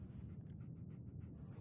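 Dogmeat, the dog companion in the video game Fallout 4, pants softly in a steady rhythmic series of quick breaths, faint and close, over a low background rumble.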